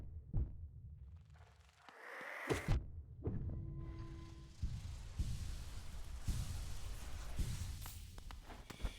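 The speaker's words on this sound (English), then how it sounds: "Yeah, they make like this little heartbeat noise." Faint, slow heartbeat-like throbbing in the Nest, a dark spider-filled area of a video game, low pulses repeating under quiet ambient hum and soft game effects.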